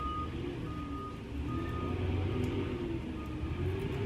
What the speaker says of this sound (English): Sorry about the truck, garbage truck.